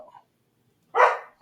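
A dog named Teddy gives a single sharp bark, loud and close, followed by the start of another, after a brief faint vocal sound and silence.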